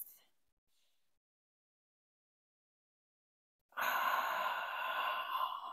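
A long, steady exhale through the mouth during a Pilates session, loud and breathy for almost two seconds after a near-silent pause.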